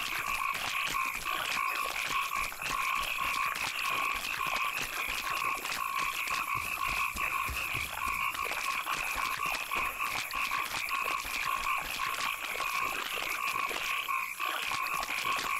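A dense chorus of swamp frogs from The Witcher 2 croaks continuously and steadily throughout, many overlapping calls forming a constant rattling drone with no talk.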